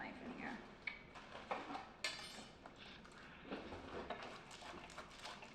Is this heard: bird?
no